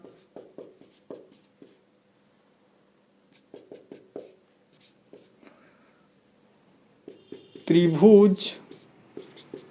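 Pen or pencil scratches across paper in short, close strokes with pauses between them, while someone speaks in Hindi during a math lesson.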